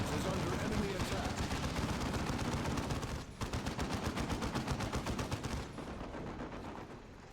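Gunfire hammering a tarantula sentry gun in the real-time strategy game Dawn of War Retribution, fast repeated shots in a steady loud stream that pauses briefly and then resumes, with a voice speaking over it.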